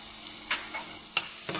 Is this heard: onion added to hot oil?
yes